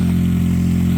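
A Chinese-made small engine running loud and close, a constant buzzing drone with a strong steady low hum and no talk.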